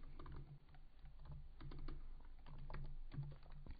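Rapid typing on a computer keyboard while programming in Kotlin, with steady clusters of close, light key clicks in irregular rhythm and no voice over them.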